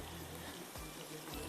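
Worcestershire sauce poured into a bowl while making black pepper chicken, a steady liquid stream close by that runs throughout under a broad wash of noise.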